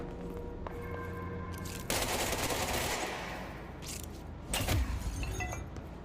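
Gunfire in the video game Control, with rapid automatic bursts cracking loudly and continuously, swelling sharply around two seconds in and again near five seconds, with no voices.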